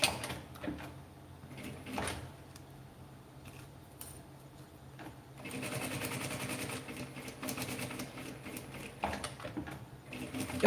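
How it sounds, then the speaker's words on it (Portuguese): A sewing machine stitching a seam on fabric scraps for a small patchwork handbag, with short bursts, a pause, then a longer steady run of rapid mechanical clatter up close. "E você vai fazer a costura de um pé de máquina"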